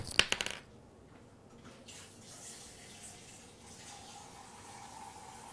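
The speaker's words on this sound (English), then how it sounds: "let me just fill my water" Water filling a drinking container at a tap indoors, opening with a few quick clinks and splashes, then a soft steady pour rising slightly toward the end, faint and close.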